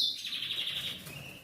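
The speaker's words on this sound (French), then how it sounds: "Désolé, les oiseaux, ils chamaillent." Several birds squabble with sharp, continuous high chirps and tweets, bright and fairly close, with no voices over them.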